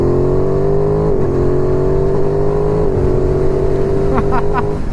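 An Aprilia Tuono 660 motorcycle engine revving at high rpm, a strong, steady, near whine that holds its pitch apart from small dips. A short burst of higher tones comes near the end.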